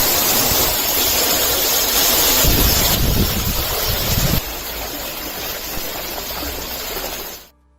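A played recording of rushing, flowing water fills the clip as a steady broadband wash, loud and continuous, dropping slightly in level partway through before cutting off near the end.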